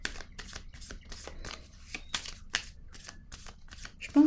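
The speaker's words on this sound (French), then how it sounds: "je vais piger une autre carte par curiosité encore pour elle" A tarot-style deck of cards is shuffled by hand, a rapid run of crisp riffling bursts and slaps close up, with a voice briefly heard near the end.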